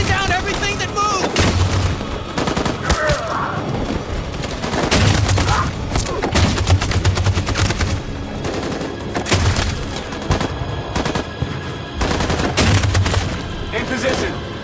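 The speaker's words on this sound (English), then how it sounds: "That machine gun is taking down everything that moves!" Dense, loud machine gun fire in a war video game, sustained bursts of rapid shots mixed with booms and explosions, with shouted voices over the battle.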